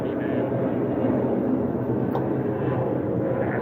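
A loud airplane passes overhead, its deep, steady roar filling the whole stretch without letting up.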